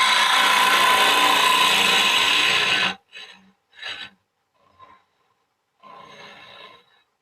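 Woodturning gouge riding its bevel on spinning wood on a lathe, a loud steady rasping cut for about three seconds, then quieter intermittent scraping bursts and brief touches with pauses between.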